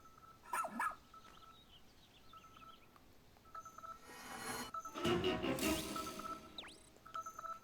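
Ochi, the rescue pup in the video game Pikmin 4, lets out a few short barks and yips among chiming game tones and bleeps, with a louder burst of game sound in the middle.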